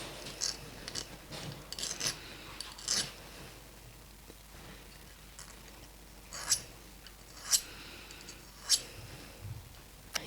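A hand file scrapes the edges of a gold sheet ear cuff in sparse, short strokes, quiet rasps separated by pauses, with a few sharper scratches later on.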